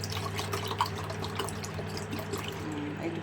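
Water trickles and pours into a kitchen vessel while preparing dudh puli, a steady close liquid flow with small drips, alone without talk.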